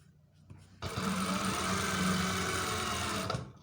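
A sewing machine runs in a fast continuous whir for a few seconds while stitching police uniform trousers, starting abruptly and stopping cleanly, close and alone.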